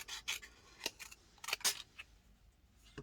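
Scissors trimming paper for a paper-doll craft project, close and quiet: a handful of short crisp snips and paper rustles in an uneven rhythm, with small handling sounds between cuts and no talking.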